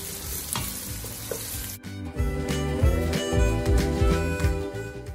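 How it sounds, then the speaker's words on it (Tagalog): Minced garlic and chopped onion sauté in a hot pan, a loud, continuous sizzle broken by repeated scraping stirs of a utensil, with no voices. "Isutay lang natin for about 2 minutes hanggang sa mag-caramelize."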